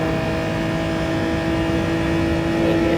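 A Genesis G70 Gr.4 race car in Gran Turismo 7 at Mount Panorama Bathurst holds a steady, loud engine drone with a strong tonal hum throughout, rising slightly toward the end.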